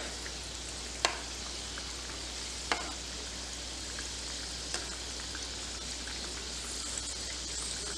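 Eggless chocolate donuts frying in hot oil, a steady close sizzle with a few sharp clicks as they are turned and stirred in the pan.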